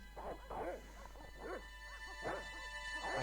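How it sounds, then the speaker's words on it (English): Dogs in the Broken Sword: The Shadow of the Templars video game bark and yelp repeatedly in a steady stream of short calls over a constant low hum of game background noise. "you're going to go down here and wait for the dogs to bark."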